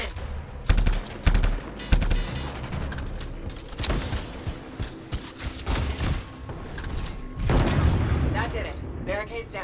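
Heavy explosions and rapid gunfire crash through a firefight in the sci-fi shooter game Anthem, including a bomb detonation. Dense, loud bursts repeat throughout, with a big blast near the end, and voices talk over the combat.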